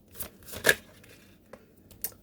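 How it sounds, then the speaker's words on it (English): Playing cards riffled and shuffled by hand during a tarot-style reading, a few soft papery bursts with one louder flutter, quiet and close with no talking. "I'm going to do one more shuffle"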